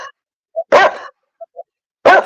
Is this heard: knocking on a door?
no